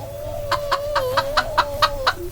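Chickens cluck in a chicken run on a ramshackle farm, about eight short regular clucks over a steady whistling tone, fairly close and clear.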